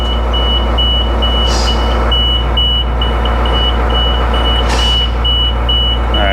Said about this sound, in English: Turn signals work.